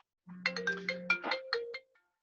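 A mobile phone ringtone going off during a virtual cotton meeting, a bright electronic melody of quick stepped notes over a sustained low tone, lasting about a second and a half before cutting off, with no speech.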